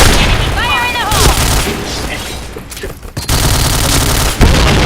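Rapid, loud gunfire from a shooter video game fills the clip with dense bursts and booms, and a player's voice talks over the continuous shooting.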